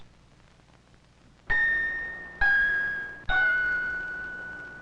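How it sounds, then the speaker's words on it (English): Metal bars of different lengths on a toy xylophone are struck three times, each note a clear ringing ding at a slightly different pitch that slowly fades, heard alone and close. "The metal bars on this toy xylophone are different lengths."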